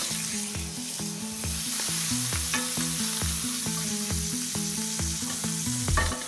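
Pancetta frying in olive oil in a hot pan, a close, continuous sizzle with soft crackles and faint pan clatter, moderately quiet and with no voices.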